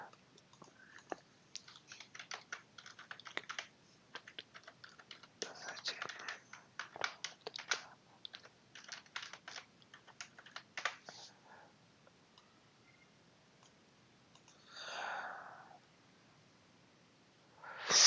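Irregular bursts of clicky key taps on a computer keyboard, fairly close and moderately loud, coming in quick flurries with short pauses, followed by a couple of soft breathy noises near the end.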